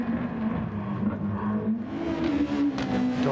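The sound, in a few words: car engine while racing in the video game Gran Turismo Sport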